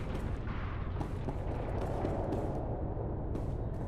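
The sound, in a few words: gunfire in SWTOR video game combat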